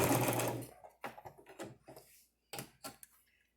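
A sewing machine stitching a miniature pillow runs in a short burst, then stops and starts in several brief spurts separated by pauses, close and fairly quiet.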